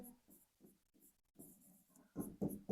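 Chalk or marker writing on a board while a maths problem is worked out, faint rhythmic scratching strokes that grow louder and denser toward the end, with no one speaking.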